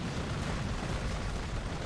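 An artillery barrage in the real-time strategy game Rise of the Reds, a continuous, dense rumble of explosions blending into one steady roar with no pauses.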